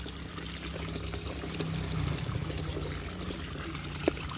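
Water is poured and trickles during hand rinsing of laundry, a continuous close splashing flow over a low hum, ending with a small sharp knock, with no speech.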